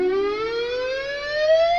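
A single electric guitar harmonic on the G string at the fifth fret rings clean and sustained while the whammy bar shifts its pitch smoothly, a clear wavering tone with no picked attack.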